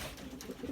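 A young female pigeon about two and a half months old coos softly, a faint, low, brief murmur with no talking over it.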